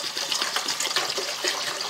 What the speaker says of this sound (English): And I'm going to fill, I don't know, maybe 1 liter of water or something.